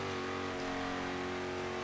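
A Koenigsegg One:1 supercar in Forza Horizon 3 holds a steady high-revving engine drone at speed, constant and fairly quiet with no change in pitch over the short stretch.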